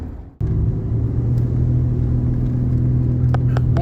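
A vehicle engine drones steadily as it climbs a steep, narrow road at a winter campout, with a low sustained rumble and a faint whine, close and continuous with no talking.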